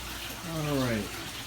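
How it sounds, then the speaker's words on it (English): Tap water runs into a bucket during an aquarium water change, a steady close wash with a rising filling tone as the level climbs. "almost done filling up the second bucket"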